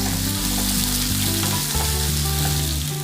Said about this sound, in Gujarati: અહીંયા જે સૂકી ડુંગળીને ઝીણી સમારીને લીધી હતી તે આપણે એડ કરી દઈશું અને મિક્સ કરી લઈશું ચમચા વડે